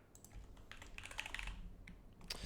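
Typing on a computer keyboard during a fresh macOS setup, with quick, irregular clusters of light key clicks at close range, fairly quiet and continuous, with no voices.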